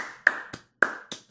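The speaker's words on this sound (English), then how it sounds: "fact you clapped there is very patronising" Two pairs of sharp hand claps, each a loud smack followed by a softer second clap, close and dry with brief pauses between pairs.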